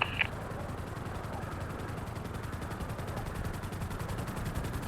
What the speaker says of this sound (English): come back east, same gun run on the vehicles, okay?